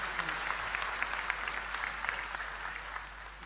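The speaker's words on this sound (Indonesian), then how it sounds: "Tepuk tangan untuk beliau" An audience at a stage gathering with Islamic scholars claps steadily, a dense, even wash of hand claps lasting a few seconds with no pauses.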